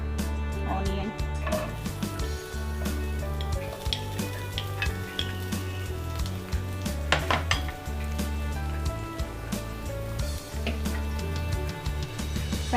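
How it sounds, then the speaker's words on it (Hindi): Onion hitting hot oil in a pan sizzles steadily throughout, with occasional clinks of a utensil against the pan and a low hum beneath; a voice speaks over it at times. "इस पैन में थोड़ा ऑयल डाल दी हूँ। ऑयल के बाद मैं ये थोड़ा ऑनियन,"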